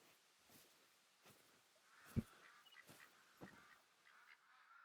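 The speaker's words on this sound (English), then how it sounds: "I'm hearing duck." Ducks calling in Hunter Call of the Wild duck season, several short honking quacks spaced out over quiet outdoor ambience, one sharper call standing out midway, all fairly faint and distant.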